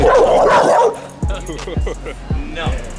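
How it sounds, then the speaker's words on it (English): A dog's gruff, deep barks, several single woofs spaced about half a second apart, loud and close, with a person's voice mixed in near the start. "He has such a mean bark"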